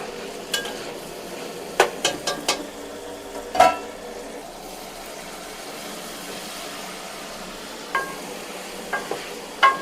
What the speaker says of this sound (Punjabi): ਹੁਣ ਅਸੀਂ ਪਿਆਜ਼ ਵਗੈਰਾ ਫਰਾਈ ਕਰਨੇ ਆ।